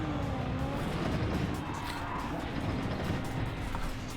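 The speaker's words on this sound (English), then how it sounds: "We've just been absolutely wrecked and I can't do anything with the car at the moment. It's just spinning." A car spinning after a crash on a wet track in Gran Turismo 7: a steady engine drone blends with skidding tyre noise, moderate and continuous, with no talk.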